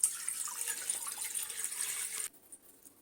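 Water runs steadily from a tap into a cooking pot while making a carob drink, a bright continuous splashing flow that cuts off abruptly near the end, leaving faint drips.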